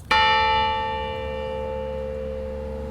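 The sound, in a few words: church bell ringing from the bell tower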